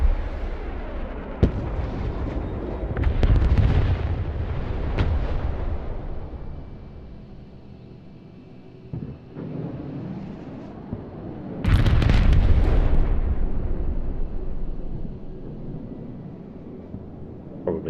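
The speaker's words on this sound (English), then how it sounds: "We're just gonna like put an entire salvo on these guys." A Grad rocket artillery salvo in the video game Broken Arrow unleashes loud, rumbling bursts of launches and booms, clustered in a heavy volley early on, easing off, then erupting again in a second loud barrage.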